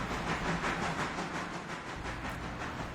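A passenger train runs steadily in the railway game Railroader, with a continuous rolling rumble, rhythmic wheel clatter and a faint hiss, heard alone without voices.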